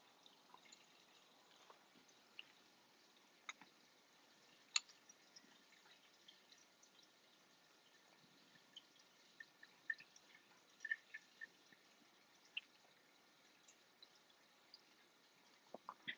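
Water trickling through a reef aquarium's makeshift filtration, as faint continuous flow with scattered small drips, quiet and close; no talk.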